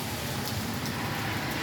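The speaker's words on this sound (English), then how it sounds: "It's raining a little heavy out here, and so is the traffic" Steady, dense hiss of rain falling outdoors along a street, with a low rumble of passing traffic blended underneath, continuous and fairly loud.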